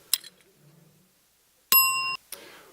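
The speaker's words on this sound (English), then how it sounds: "when you hear the bell, we're going to talk to the next person around the table" A bell at a chamber of commerce breakfast networking event rings once with a bright, sustained metallic ding, with faint room noise and short murmurs around it.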